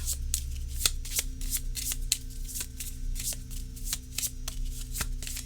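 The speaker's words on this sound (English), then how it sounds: "Now, let's see how these things shuffle." A thick, hefty cardstock tarot deck, the Celtic Book of the Dead, is riffle-shuffled by hand in quick repeated snapping bursts, close and crisp, with a low background hum.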